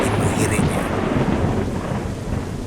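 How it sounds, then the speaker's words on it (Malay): Heavy rain pouring down in a dense, steady roar that fills the scene, loud and close with a faint higher chirp near the start. "Hujan turun dengan lebatnya."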